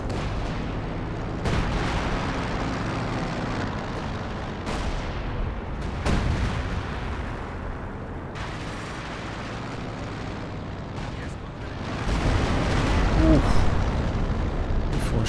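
Artillery shells landing in a winter battle in Company of Heroes 2, a 3v3 match with howitzers firing, give a dense run of heavy booms and rumbling impacts, some near and sharp, others distant, rolling continuously with a louder barrage near the end.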